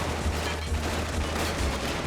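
Steady gunfire in a Final Fantasy VIII battle scene, bullets ricocheting with spark-like cracks over a dense, continuous barrage, loud and close throughout with no pauses.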